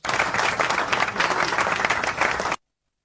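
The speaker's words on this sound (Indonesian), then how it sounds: "Berikan tepuk tangan yang terbaik untuk Tuhan Yesus." A church congregation gives sustained applause, a full, even wash of many hands clapping for about two and a half seconds before cutting off abruptly.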